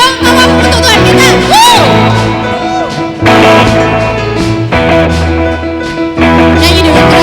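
A crowd at a Christmas worship night shouts and cheers loudly in waves of whoops and yells, over music that keeps going underneath.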